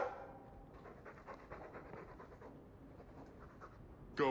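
A dog in a video game pants in a steady quick rhythm of soft huffing breaths, fairly close but faint, ending with a brief louder burst of sound.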